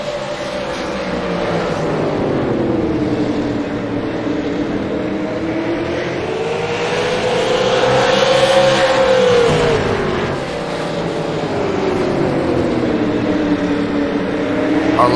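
Race cars at Irwindale in an All American Racing League championship, their engines droning loudly and continuously, the pitch rising and falling as the cars circle the track, with no talking.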